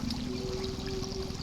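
The Tiro river in Aceh flows through remote jungle with a steady, close rushing wash of water that holds at an even level throughout, with no voices.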